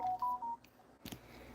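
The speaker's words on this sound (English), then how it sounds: "No, Facebook notifications." Facebook notification alerts on a phone: a quick run of three or four short electronic beeps, followed after a brief gap by a soft click and low background murmur, quiet and nearby.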